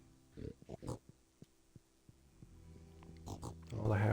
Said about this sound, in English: All the happy little pigs.